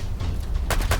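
Micro-Uzi submachine gun firing in a Fallout 4 zombie apocalypse mod, a quick pair of sharp bursts over a low rumbling game background; no talk.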